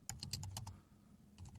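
Typing on a computer keyboard, a quick run of about seven crisp keystrokes followed by a pause and a few softer taps, close and quiet over low room hum.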